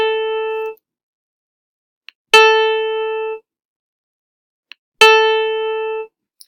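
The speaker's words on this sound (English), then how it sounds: "The note on the space above the G is A" Three clean, ringing repetitions of the musical note A, a clear harmonic tone, each sustained for about a second with quiet gaps and soft clicks between them.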